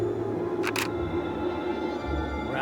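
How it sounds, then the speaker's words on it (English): Two quick camera shutter clicks from a single-lens reflex style camera in the Deponia point-and-click game, close and crisp over a low steady game ambience, with no talking. "Just press the shutter button."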